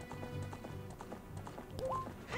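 Horse hooves clip-clopping in the Nintendo 64 game Zelda: Ocarina of Time, a steady repeating rhythm mixed in with game music and effects, ending in a brief rising tone.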